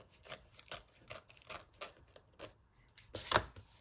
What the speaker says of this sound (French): je vais couper ce petit bout-là